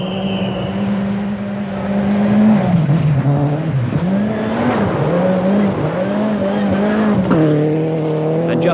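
Rally car in the 1989 British Rally Championship, thrown around the twisting Silverstone layout. Its loud, close engine rises and falls in pitch as it brakes and accelerates through bends, with brief tyre squeals throughout.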